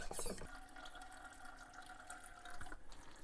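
Brake fluid is pumped and flushed into a tank during a brake system refresh on a Mercury Marauder, a steady liquid rush and gurgle with a brief splashy burst at the start.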